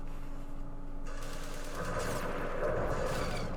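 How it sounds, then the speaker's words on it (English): Gunfire in the Vietnam war game Campaign Series Vietnam, a dense rattle of shots blended into a steady background din of battle, fairly faint and continuous, with no talking. "Oh, they're firing at us."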